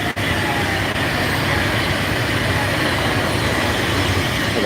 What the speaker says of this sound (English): now suddenly loads of trains coming by